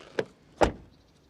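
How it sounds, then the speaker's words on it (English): A VW Tayron seven-seater SUV door shuts with a faint click followed by one solid, dull thud, close by and otherwise quiet. "Then the door closing sound."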